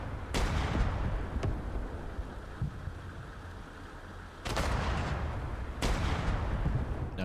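Heavy gun on the back of a Humvee firing in a modern real-time strategy game, a few sharp booming shots spaced apart over a constant battle rumble.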